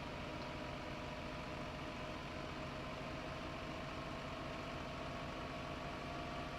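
A small tractor engine in Farming Simulator 15 drones steadily under heavy load, a constant low rumble with no pauses and no talk.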